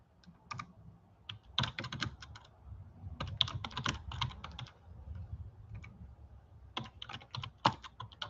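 Fingers type on a computer keyboard in irregular bursts of crisp key clicks, close and moderately quiet, with short pauses between flurries and no voices.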